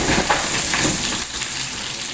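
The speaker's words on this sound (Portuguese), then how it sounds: "Vou colocar aqui fritar os salgados." Savory salgados fry in hot oil, giving off a loud, steady, close crackling sizzle with dense popping bubbles that runs unbroken throughout, with no voices.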